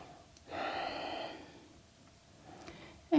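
A single slow, deep yoga breath drawn in audibly through the nose and released, close and quiet, followed by a soft trailing exhale and a brief sharp sound at the end.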